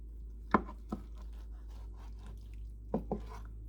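Knife slicing green chiles into strips on a cutting surface, a few quiet, sparse taps arriving in pairs against a faint low hum.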